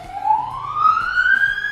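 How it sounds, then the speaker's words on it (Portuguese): An ambulance siren in Portugal wails as a single rising tone, fairly loud and close, over low street rumble. "Pior que não, ambulância"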